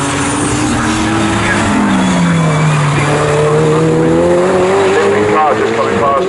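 A GT race car runs down the Bentley straight during a GT Cup Championship race, its loud engine note sweeping down in pitch as it passes, with other engine tones layered over steady track noise.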